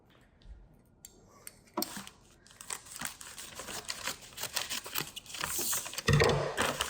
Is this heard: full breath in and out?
no